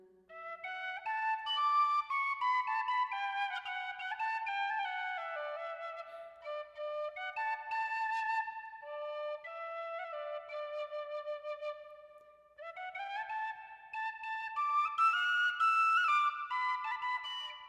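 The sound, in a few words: tin whistle being played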